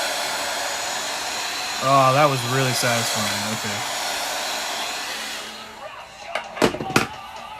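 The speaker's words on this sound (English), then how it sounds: "I'm about to ruin it with my vacuum cleaner." A vacuum cleaner runs with a loud, steady whooshing roar under a brief spoken remark, then cuts off and leaves a few sharp clicks and knocks.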